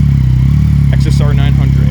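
A 2019 Yamaha XSR 900 with a full exhaust system idles with a loud, steady, throbbing rumble close by, while a voice talks over it.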